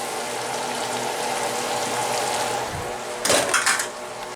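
Soy sauce and oyster sauce go into a pan of chicken stir-fry, which sizzles steadily up close, followed by a brief clatter of utensils against the pan.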